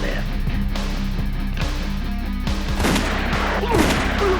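Gunshots in a western film scene, several sharp bangs in quick succession, loud and close, with a voice speaking in between over a low steady musical drone.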